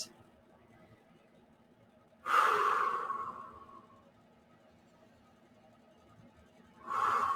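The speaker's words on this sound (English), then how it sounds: "Couple breaths." Deep breaths during a hot yoga class, two long, loud, breathy exhales spaced several seconds apart, close to the microphone, with quiet room tone between them.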